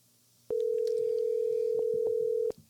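A telephone's ringback tone sounds loudly and steadily for about two seconds as an outgoing call connects, with faint background noise before and after.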